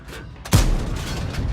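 A tank cannon fires in World of Tanks, one loud sudden boom followed by a rumbling tail that lingers under engine noise.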